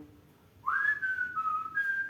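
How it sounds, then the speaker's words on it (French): A single person whistles idly, one rising note sliding into a gently wavering, sustained tune, close and clear with no talking. "parce qu'en général on siffle quand on a ce moment-là"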